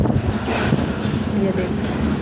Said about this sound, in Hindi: आप लोग ऐसे समझ पा रहे होंगे कि इतनी ज़्यादा हवा चल रही है